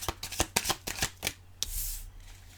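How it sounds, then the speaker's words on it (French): Tarot cards are riffled and shuffled in a run of sharp, close papery bursts, then slid and drawn with a longer soft swish, loud and alone without talk. "on va sortir 3 cartes, comme pour les autres tirages"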